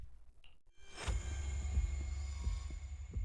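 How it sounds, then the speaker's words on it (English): Rapid heartbeat from Zenless Zone Zero, deep low thumps repeating in a quick throbbing rhythm over a steady hum, following a brief moment of near silence. "with only his rapid heartbeat echoing"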